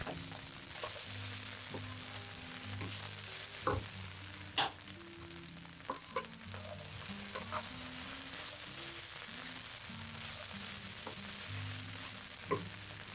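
Egg fried rice sizzles and fries in a wok finished with sesame oil, a steady crackling hiss with occasional clinks and scrapes of stirring, moderately quiet and without talk.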